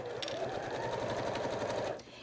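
A sewing machine stitches synthetic waterproof fabric on the reverse side, giving a rapid, even mechanical rattle at close range that runs continuously for about two seconds.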